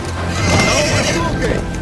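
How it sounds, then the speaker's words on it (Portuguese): Spirit the wild horse from a DreamWorks animated film gives a loud, quavering whinny with hoof clip-clop beneath, while a voice talks over it. "A gente vai acompanhar Spirit, que é esse cavalo, esse corcel maravilhoso aqui"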